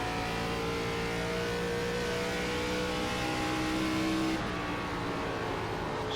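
ARCA stock car engine in the iRacing simulator at Iowa, droning loud and steady at high revs under full throttle, its tone shifting slightly before settling near the end.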